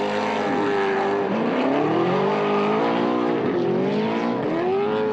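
Two naturally aspirated V8 drift cars race together at a raceway, their engines screaming loudly and continuously with wavering, overlapping pitches as the revs rise and fall.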